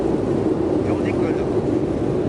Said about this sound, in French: Et on décolle.